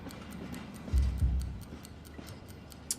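A time bomb ticks in a film scene, a steady, quiet, evenly spaced tick over a low rumbling background, with a couple of muffled thumps partway through.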